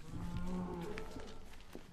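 A dairy cow on an organic farm gives a low, drawn-out moo nearby, fairly quiet, over faint barn background noise and shuffling.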